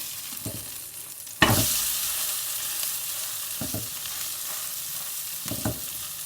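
Mackerel fish fillet frying in a pan hisses in a continuous close sizzle that swells sharply as the fish is flipped, with a few soft clinks of a utensil and no speech.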